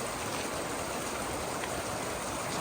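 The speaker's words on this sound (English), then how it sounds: "this is the second water crossing" A stream rushes at a hiking water crossing near Owls Head, making a steady, dense broadband babble that is close and continuous, with no voices over it.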